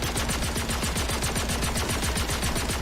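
Energy rifle in Star Citizen firing at a personal shield: a rapid, even stream of sharp pulsed shots that continues without a break, loud and close.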